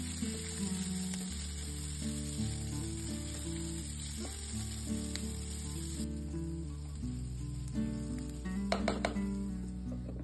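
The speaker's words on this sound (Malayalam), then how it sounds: "ഇതെല്ലാം ചേർത്തതിന് ശേഷം നന്നായിട്ട് വഴറ്റുക." Green chili, chopped onion and carrot sautéing in a pan for ragi upma, a soft steady sizzle under occasional stirring scrapes and light clinks of a spoon, with no talk.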